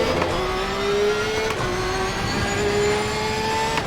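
Porsche race car in Assetto Corsa Competizione on GT World Challenge circuit, engine holding a loud, steady high-rpm howl with rising tonal whine and brief gear-shift dips, continuous and close.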